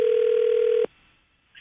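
An outgoing telephone call produces a single steady ringback tone on the line. It lasts under a second, then cuts off into near silence.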